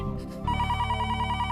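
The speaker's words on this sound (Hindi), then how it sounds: "अरे, टप्पू के पापा ने सामने से फोन किया।" An indoor household telephone starts ringing partway through, a sustained electronic trill that continues steadily to the end of the clip over faint room ambience.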